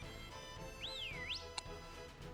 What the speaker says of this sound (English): I got a whistle button